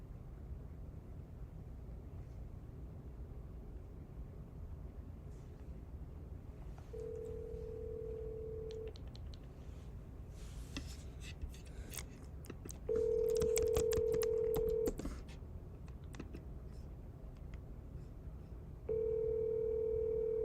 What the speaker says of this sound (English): I'm going to answer a quick phone call